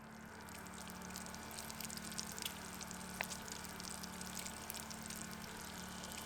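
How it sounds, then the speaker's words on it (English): Bacon frying in a pan at a duck camp kitchen, a steady soft sizzle and crackle running throughout with a faint low hum beneath and occasional small pops. "Got some bacon going."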